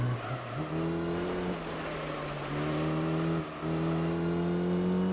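A car in Gran Turismo Concept 2002 Tokyo-Geneva revs its engine steadily, the pitch climbing through the gears with brief dips at each shift. The engine drone stays continuous and moderately loud.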